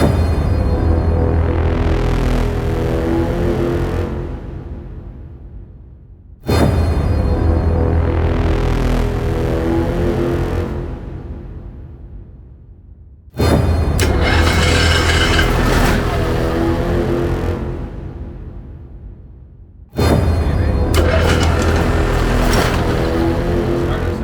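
An Airstream trailer's generator cranking into life and running, repeated four times: each start is a sharp onset into a loud steady engine drone that slowly fades down before the next start, with no voices.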